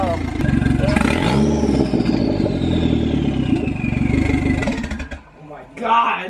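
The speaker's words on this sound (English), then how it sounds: "Just all you hear is turbo" A Chrysler PT Cruiser GT with a catless turbo downpipe revs hard, its engine roaring loudly up close with a rising then falling turbo whistle and spool, people talking over it, before a brief dip and another rev.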